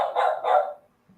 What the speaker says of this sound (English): you can hear my dog going crazy